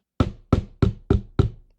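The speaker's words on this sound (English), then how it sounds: "She decides to knock." Five firm, evenly spaced knocks on a bedroom door, close and loud, each with a short resonant decay and no voices.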